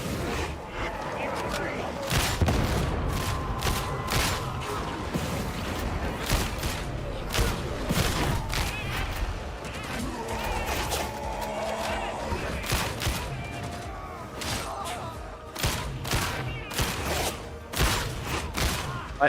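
Repeated gunfire from a weapon in a video game, with sharp bursts and shots recurring throughout over a busy game soundtrack, while a person talks.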